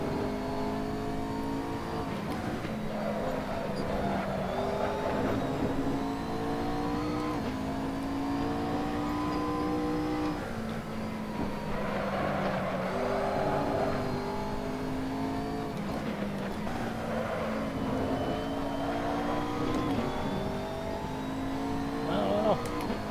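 A race car sliding sideways through corners in the video game Assetto Corsa, its engine revving up and down in rising and falling sweeps with tyre noise, while a person talks over it.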